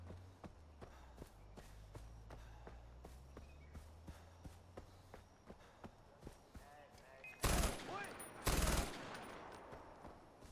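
Gunfire in the video game Far Cry 4: two loud, close bursts near the end, preceded by steady in-game footsteps and a low engine-like hum.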